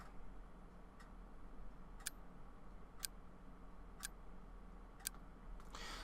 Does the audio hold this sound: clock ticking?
yes